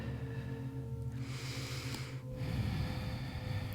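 A person breathing in a yoga pose: soft, steady airflow, then a stronger, slower breath drawn near the microphone, quiet and with no talking.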